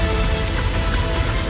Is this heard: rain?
yes